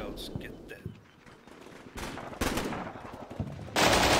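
Gunfire bursts from the wargame Combat Mission Shock Force 2 as scouts come under fire from an unseen enemy, with sharp reports scattered over about four seconds and a louder sustained burst at the end.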